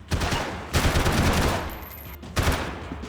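Heavy gunfire in Max Payne 3 comes in loud, close bursts: a sharp opening volley, a long sustained stretch of shots, then another burst after a brief pause.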